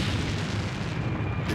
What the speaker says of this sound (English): an insurgent fires an RPG